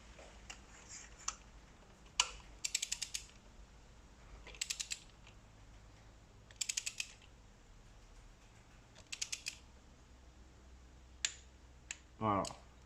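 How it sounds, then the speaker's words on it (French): Torque wrench on a Fiat 500X spark plug gives several quiet, sharp metallic clicks in small bursts across a hushed workshop, with brief faint talk in between. "La clé, elle a claqué. C'est que c'est serré au couple."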